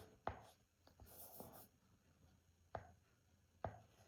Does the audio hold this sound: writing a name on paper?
yes